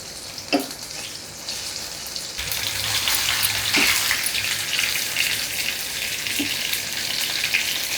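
Urad dal bajji batter hits hot oil and breaks into loud, continuous sizzling and crackling that swells and stays dense, with a few sharp clinks at the start and midway.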